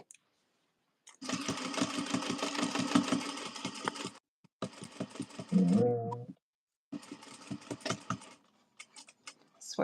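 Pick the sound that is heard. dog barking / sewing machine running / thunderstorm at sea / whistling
sewing machine running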